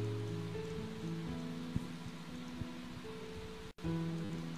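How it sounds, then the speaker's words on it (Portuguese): Rain falls in a steady soft patter over a low hum, faint and even throughout, with a brief dropout near the end. "Chuva caindo, coisa boa."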